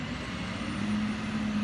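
A leaf collection truck with a claw idling in the street: a steady low engine drone with a constant hum, heard from nearby and without pauses.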